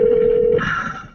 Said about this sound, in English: Answer the damn phone.